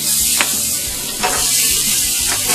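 Brats sizzle on a gas grill in a loud, steady hiss of frying fat with occasional sharp crackles and pops, heard up close with no voices.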